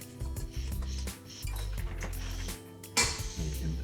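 Utensil scraping around a mixing bowl of batter, a series of clinks and scrapes with a sharper knock near the end, close and fairly loud, with no talking.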